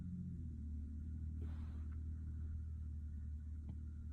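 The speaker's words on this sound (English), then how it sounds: "And now there's a car driving around here." A car passing outside at a distance, a steady low engine rumble that stays even throughout, with no voices.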